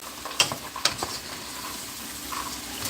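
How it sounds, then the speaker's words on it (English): Ginger sizzling in a pan beside sautéed vegetables, a constant close frying hiss broken by a few sharp clinks and scrapes of stirring. "That's the ginger cooking over on that side."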